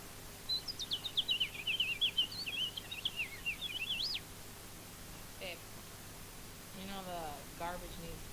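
A person in VRChat imitates a house finch song, with a rapid, high, warbling run of chirps lasting several seconds, then a few softer scattered chirps, close and without talk.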